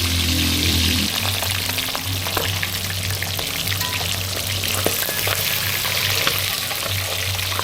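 Fish fry in a pan outdoors during a power outage, a loud, steady sizzle and crackle with scattered pops and spits running continuously, close up, with a low hum underneath.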